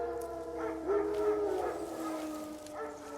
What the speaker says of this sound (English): Wolves? No. Wild dogs.